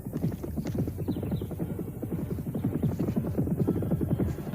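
Horses gallop fast along a dusty, rocky road, hooves drumming in a dense continuous rhythm at moderate loudness with no talk.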